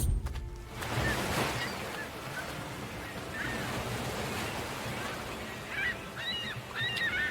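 Seagulls crying in a video game over steady surf and wind, several short high calls near the end, fairly faint against the wash of waves.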